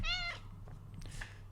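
A pet cat lets out a single clear, drawn-out meow up close at the start, followed by faint thumps and rustles as it moves about.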